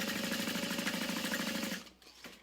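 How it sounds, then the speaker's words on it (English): A sewing machine runs a U-shaped basting seam with about an eighth-inch allowance on a fabric beauty bag, a steady rapid buzzing whir close up that cuts out near the end, leaving faint clicks. "you're just gonna sew along in a U shape to baste it in place"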